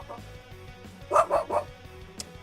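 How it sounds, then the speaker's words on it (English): A pet dog barks at a window in the morning, giving three sharp yips close together at mid-distance, then one more brief yelp, over quiet background hum. "Sorry, my dog was just barking."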